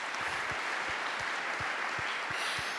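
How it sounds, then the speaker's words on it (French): A church audience at a gathering with the pastor applauds and cheers, a dense, steady wash of many hands clapping close and loud throughout, with no speech over it. "Est-ce qu'on peut acclamer pour le oui du pasteur?"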